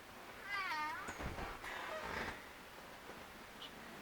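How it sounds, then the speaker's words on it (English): A talkative pet cat named Arlo gives a clear, rising and falling meow near the start, followed by a softer chirp, close by in a quiet room with faint rustling afterward. "He's a very talkative cat."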